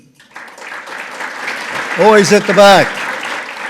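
Audience applause at a symposium marking Canada and Kosovo, a steady patter of clapping throughout, swelling and loudest toward the end, while someone speaks over it.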